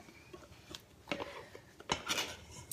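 A utensil scrapes a peanut butter mixture out of a mixing bowl, giving several short rasping scrapes and knocks at close range with quiet gaps between them.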